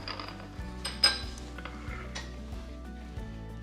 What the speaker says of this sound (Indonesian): Aku goreng dulu.